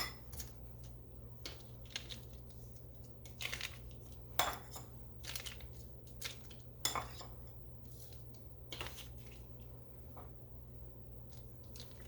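A spoon stirring sweet potato casserole ingredients, with flour still at the bottom, in a mixing bowl, giving scattered clinks and soft squishy scrapes at close range over a steady low hum.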